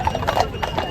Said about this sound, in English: Nothing's more British than the police riding on horses